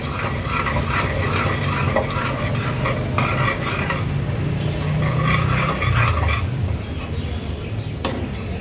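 Rice flour dough (ukad) made with leftover cooked rice being stirred in a pan, a steady close scraping and mixing that runs continuously with light utensil clinks.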